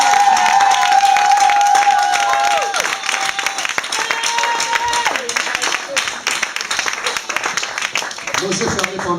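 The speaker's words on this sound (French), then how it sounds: "acclamer très fort pour la gloire de Dieu" A church congregation cheers and applauds loudly, a dense sustained wash of clapping and shouts with voices and musical tones mixed in, continuous for several seconds.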